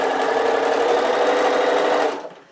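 A sewing machine stitches a tote bag in one steady, close, loud run lasting about two seconds, then cuts off abruptly and fades. No one talks over it.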